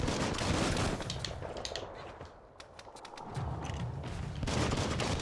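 Gunfire in the video game Biomutant: rapid bursts of shots with loud, dense volleys at the start and end and a short lull in the middle, with no talking.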